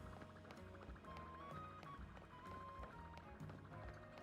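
Heavy, thudding footsteps of a huge Mega Evolved Pokémon in the video game Pokémon Legends Z-A, repeating steadily under loud, dense game music.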